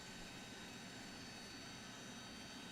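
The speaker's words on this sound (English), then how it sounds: "the favourite thing about these engines is the buckets opening on the reverses there" Lockheed Jetstar jet engines in a flight simulator with thrust reverser buckets deployed, a steady broad whooshing roar, faint and unbroken over the short span.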